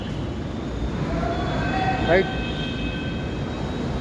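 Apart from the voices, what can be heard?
metro train arriving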